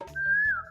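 A person whistles to call their child: one clear, close whistled note that holds steady, then slides downward at the end, with soft low background murmur.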